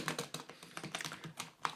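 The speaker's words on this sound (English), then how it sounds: "So you can hear it is a membrane keyboard" Rapid keystrokes on a Havit HV-KB380L membrane gaming keyboard with LED backlighting, an irregular run of soft, close clicks and taps with no voice over them.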